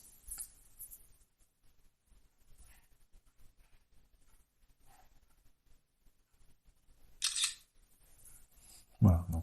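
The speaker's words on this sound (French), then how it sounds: "on va prendre une petite photo" A PPTV King 7 smartphone camera fires its shutter with a short, crisp click near the end, after a quiet stretch holding a few faint ticks and handling noises.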